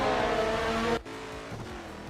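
Race cars roar in a video game, a loud sustained engine whine that cuts off sharply partway through and then drops to a lower, rougher engine drone from farther away.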